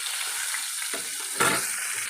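Fish coated in chiroti rava and cornflour fries in a pan, a dense steady sizzle with a brief louder crackling burst midway.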